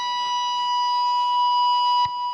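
A single sustained electric guitar harmonic rings on the 9th fret of the G string: a steady, bell-like tone that holds evenly, then ends with a brief click or string noise near the end.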